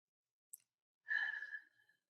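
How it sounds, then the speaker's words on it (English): A single slow, soft deep exhale during a guided breathing exercise, breathy and close, preceded by a tiny click, otherwise quiet. "let's take a deep breath. Deep cleansing breath."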